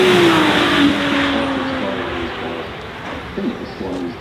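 A Ferrari Daytona SP3 hypercar revs loudly close by, its engine tone climbing and then easing off, while people talk over it.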